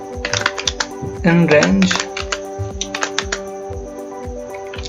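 Quick, steady typing of code on a computer keyboard, with crisp close-up key clicks coming in rapid bursts while someone talks over them in Hindi.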